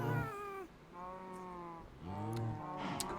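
Cats meowing in Minecraft, several drawn-out, harmonic meows in close succession, fairly loud and near with no talking over them.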